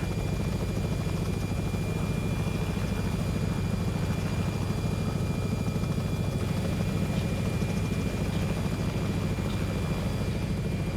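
A Robinson R66 helicopter flying in X-Plane 11 produces a loud, continuous engine and rotor drone that holds steady throughout, with no voices heard.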